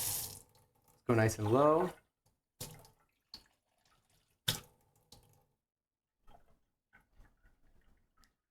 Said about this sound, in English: I'm going to rinse this out.